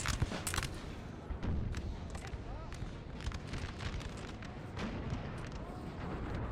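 Gunfire volleys crackle and thump through a Napoleonic Total War 3 battle, rolling musket fire and booming artillery in steady, moderately distant waves under a continuous battlefield din.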